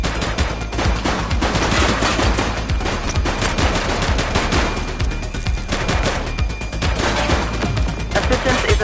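Heavy gunfire in the police video game The Precinct, with rapid machine-gun bursts and shots crackling continuously and loudly throughout.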